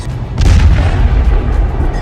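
A heavy explosion in wartime footage from the Ukraine war booms loudly, a deep low rumble swelling after a sharp onset and lingering for about two seconds.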